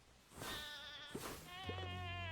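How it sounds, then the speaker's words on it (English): Goat in the video game FTB Skies giving a couple of wavering, nasal bleats with tonal pitch glides, close and fairly faint over a quiet background. "The goat's gonna show up."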